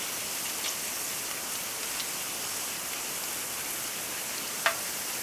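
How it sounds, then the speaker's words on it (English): Potato slices frying in a pan of hot oil for homemade crisp chips, a steady dense crackling hiss throughout with a couple of sharper pops near the end, no voices. "you'll know they're done because they'll pretty well stop sizzling"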